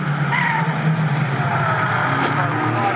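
Caterham Seven 270R race cars lapping Snetterton circuit in a championship race, a loud, steady, close engine roar with bursts of tire skidding and cars sweeping past.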